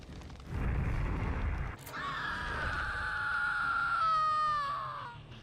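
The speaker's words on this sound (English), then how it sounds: "A big old Robin scream" A loud, drawn-out scream from the character Robin in the Dead by Daylight video game, with a rising, wavering tone. It follows a burst of noisy rumble and a sharp hit.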